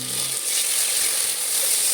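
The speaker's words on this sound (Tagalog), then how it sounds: "Yung bagong alamang, nakagisa na to eh." Fresh shrimp paste sautéing with garlic and onion in a pan gives a steady, hissing sizzle close by, level and continuous over a couple of seconds, with no talking.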